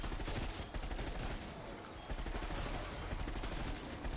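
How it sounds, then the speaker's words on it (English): Dense, continuous gunfire from a first-person shooter, Call of Duty Black Ops, fills the whole stretch, with rapid overlapping shots forming a loud, unbroken clatter. "just shoot at heads like this"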